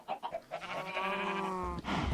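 Cows being bred in a Minecraft modpack, a sustained low mooing with a long tonal call at close range, preceded by shorter game sounds.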